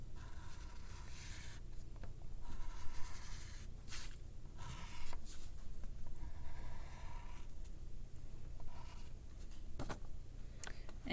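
A pen or marker draws a series of lines on the band of Luffy's straw hat in a drawing, with soft, steady scratching strokes. A few brief pauses break the strokes, and no one speaks.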